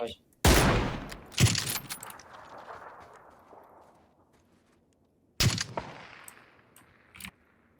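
Sharp gunshot bursts ring out, a loud pair near the start and another a few seconds later, each trailing off in a long echoing decay.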